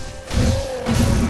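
In the video game Sekiro, an ogre boss strikes the player with two heavy, muffled thudding impacts about half a second apart, each carrying a rough crashing tail.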